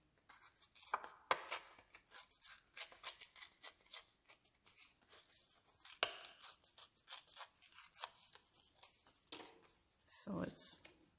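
Paper torn by hand in repeated short rips while making a handmade Christmas shoe card at a crafting desk, a crisp close rasp with soft quiet gaps and handling rustle between strips.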